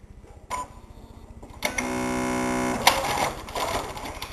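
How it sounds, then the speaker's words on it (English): A sewing machine stitches along a marked pattern line on a bodice apex insertion, running steadily for about a second with harmonic whirring and faint ticks before and after the run. "I'm going to sew this line. So now I go to the machine."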